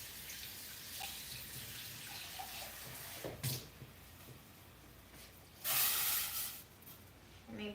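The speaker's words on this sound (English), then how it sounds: "I rinse some water to get all the remaining rice grains out" Tap water runs steadily into a pot to rinse out leftover rice grains, a soft continuous splash with a louder gush near the end, close by and with no talking.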